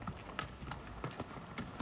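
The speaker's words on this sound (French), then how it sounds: "t'as les chevaux qui emmènent tout le matos" Horses' hooves clip-clopping on a Moroccan mountain trail while the animals carry gear, a faint, fairly distant irregular series of clops with no talk.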